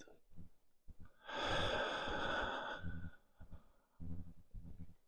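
A single slow, deep breath during a paced breathing exercise: a long, airy exhale or sigh in the middle, framed by quieter, softer breaths, close and intimate.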